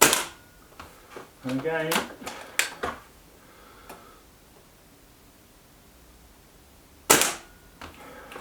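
A Reximex Ixia air rifle fires pellets, sharp close cracks in a quick cluster early on and another single report later, with a brief spoken remark between shots over a quiet background.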